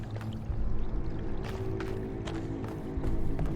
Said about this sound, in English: I can hear water flowing, so there must be like a plumbing system built into this.